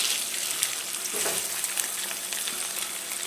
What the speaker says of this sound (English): While that's cooking on medium, little pepper.